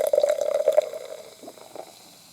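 A fizzy summer drink is poured into a glass, a bright gurgling stream for about a second that gives way to softer trickles and fizzing as it settles, fairly quiet and close.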